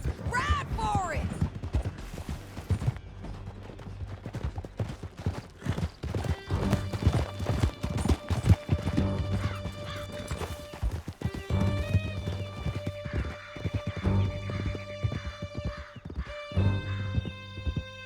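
Horses gallop in a steady clip-clop of hooves through a canyon in Red Dead Redemption 2, loud and continuous, with a whinny and shouted voices over a swelling musical score.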